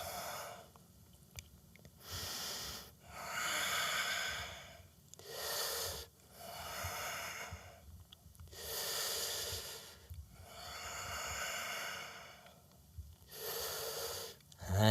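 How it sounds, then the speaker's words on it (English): Slow, deep nasal breathing during a vinyasa power yoga session, each airy inhale and exhale rising and fading in a regular rhythm of about seven breaths, close and alone. "Keep that breath through the nose."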